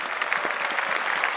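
A short, steady burst of applause from a small crowd, close and continuous, with no talking over it.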